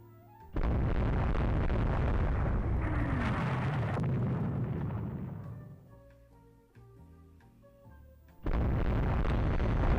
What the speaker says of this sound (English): Fire all missiles.